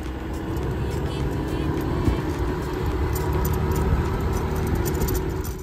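Rented scooter riding along a road on a roughly 1.5-hour trip toward Tham Luang Cave in Thailand, with steady engine drone and broad wind and road rush throughout, no voices.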